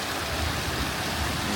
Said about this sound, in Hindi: ये देखो यहाँ से पानी आ रहा है।